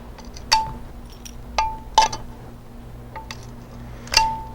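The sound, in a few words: stained glass piece snapped off along score line with grozing pliers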